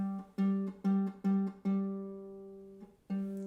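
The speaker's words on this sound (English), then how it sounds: "So my G string sounds like this." A ukulele's low G string is plucked repeatedly, five quick steady notes followed by a longer ringing one and a final pluck, clear and close with no talking.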